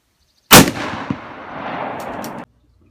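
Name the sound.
gunshot from .348 rifle during bullet testing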